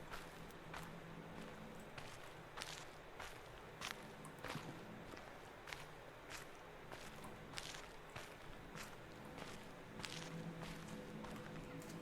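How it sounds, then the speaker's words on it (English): Footsteps on ground in the video game The Witness, a soft, steady and evenly spaced crunch of walking that runs on alone and at a low level. "Do my footsteps change as I walk around?"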